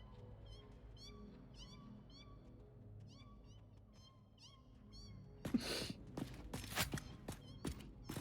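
Repeated high, chirpy cat meows in the video game Satisfactory, a quick steady series of short calls, followed by louder scattered thumps and crunchy impacts near the end.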